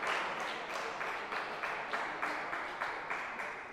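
Home crowd at an ETTU Cup table tennis match in Glasgow applauding steadily, a dense wash of clapping with faint rhythmic swells, moderately distant and without talk.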